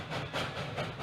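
C&J number 113, an ALCO-built 0-6-0 steam switcher locomotive, gives off breathy hissing steam chuffs in a loose rhythm, fairly close and moderately loud.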